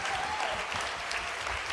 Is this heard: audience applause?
yes